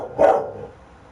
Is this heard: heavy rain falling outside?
no